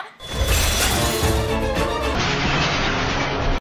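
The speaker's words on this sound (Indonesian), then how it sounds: "Saat semua balon tiba-tiba pecah" Many balloons burst all at once in a dense, loud crackling crash that keeps going for several seconds, with no voices over it.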